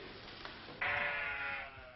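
A single sheep bleats from a distance on a farm where a flock of about 500 is kept, a drawn-out cry standing out over faint background noise.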